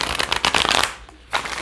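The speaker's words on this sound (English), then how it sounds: "let's shuffle this deck" A Rider-Waite-Smith tarot deck shuffled by hand, a close, dry flurry of riffling card edges for most of a second, a brief pause, then a short second burst of cards.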